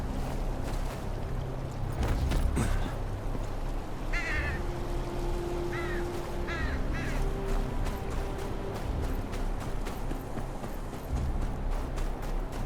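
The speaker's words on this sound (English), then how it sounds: "Crows don't just circle around any old thing." Harsh, repeated bird calls ring out at moderate distance over a steady ambient bed of wind or water in the Game of Thrones video game, consistent with crows cawing in short bursts.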